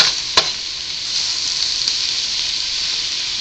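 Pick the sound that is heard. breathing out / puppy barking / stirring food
stirring food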